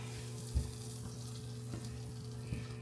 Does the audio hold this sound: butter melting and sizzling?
yes